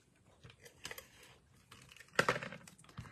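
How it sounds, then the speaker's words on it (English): Sticky tape being applied to a paper card: a few quick close crackles and taps, with one louder rustle near the end, in an otherwise quiet room. "We'll put some tape on first."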